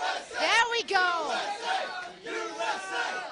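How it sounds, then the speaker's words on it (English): Large esports crowd at a Dota 2 International grand final chanting a rhythmic cheer for Team Liquid, many voices shouting together in repeated loud bursts that fill the hall. "can we get a USA cheer for Liquid?"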